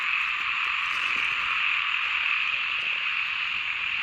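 A dense chorus of frogs croaking across a rice field at night, a steady unbroken high-pitched trilling drone that is loud and continuous, with no speech.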